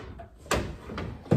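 Deep pull-out drawers on a thrifted cabinet slide open in two separate pulls, each ending with a short wooden knock, close and fairly quiet with no voices.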